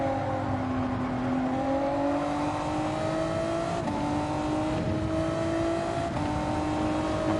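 Race car engine in Gran Turismo 7 at Autopolis, a steady high-pitched whine that rises gradually through the gears, with brief dips at each shift and no voices.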